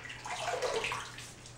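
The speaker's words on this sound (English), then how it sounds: "add in some hot tap water to my face" Hot tap water runs in a steady, soft hiss from a bathroom faucet, brief and fairly quiet with no talking.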